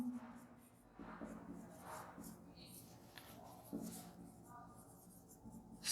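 Handwriting during a Hindi-language maths lecture, pen or chalk scratching in short strokes while someone speaks over it, the writing soft and close beneath the steady voice.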